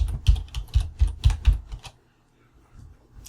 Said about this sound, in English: I'm just going to type in my substance